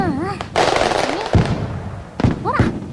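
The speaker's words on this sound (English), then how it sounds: "the fireworks are really loud" Fireworks bursting during a Bon festival in a video game, a run of loud cracks and booms with crackling tails, mixed with game music and voices talking over the display.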